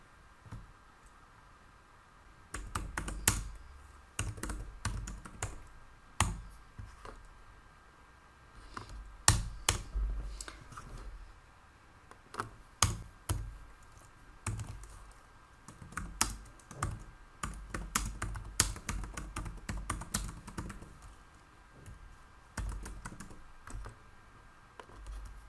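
Irregular keyboard typing while a MySQL query is entered on a computer, close and clear, with bursts of quick keystrokes and short pauses between them.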